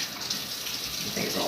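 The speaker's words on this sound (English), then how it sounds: "I'm just rinsing everything one more time just in case." Running tap water pours steadily over a cooking pot being rinsed at a kitchen sink, a continuous near hiss and splash for a brief moment while making homemade pies.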